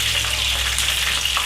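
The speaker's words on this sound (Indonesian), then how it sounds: "Sekarang kita goreng kita punya kelit" Catfish fries in hot oil in a pan, a loud close crackling sizzle that holds steady throughout with no talking.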